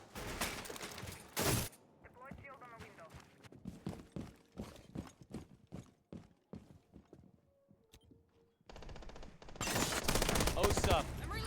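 A wall bang shot in a tactical shooter esports match, heard as a string of sharp gunshots spaced through the middle of the clip, set between louder stretches of crowd and caster noise.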